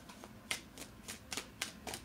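Tarot cards pulled one after another from a sacred geometry deck, a series of crisp papery slaps and flicks repeating at a steady, quick rhythm, close and clear with no talking.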